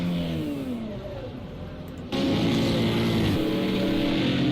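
Race car engines roar at Indianapolis in Project CARS 2, a sustained mid-pitched drone with shifting harmonics that jumps louder halfway through as a car passes close, rising and falling with gear changes.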